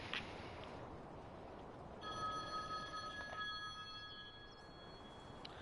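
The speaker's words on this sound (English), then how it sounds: "I'm getting a phone call" An incoming call rings on a telephone during a Farming Simulator 19 session on the Felsbrunn map, a steady electronic bell tone starting partway through and holding over a low background hum.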